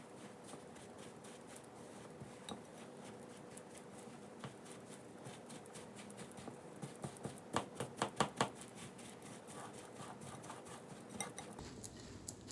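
Metal spoon working a stiff granola bar mixture in a bowl, giving repeated scraping clinks and knocks that grow denser and louder midway, quiet and close with no talk.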